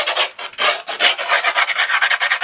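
A file rasps steadily along the grip tape edge of a skateboard deck in quick, rhythmic back-and-forth strokes, close and loud, with no talking.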